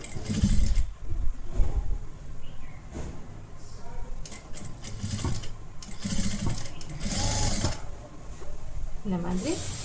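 A sewing machine stitches a collar-neck blouse in steady mechanical bursts, the running pauses and starts again several times, and someone talks over it throughout.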